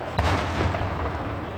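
Rapid Fourth of July fireworks crackling and booming in a dense, continuous barrage. An initial sharp bang is followed by layered rumbling pops that keep going throughout.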